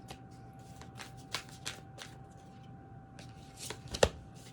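Tarot cards shuffled by hand during a reading, soft scattered slaps and riffles spread across a few seconds with one sharper snap near the end, close over a faint steady hum and no talk.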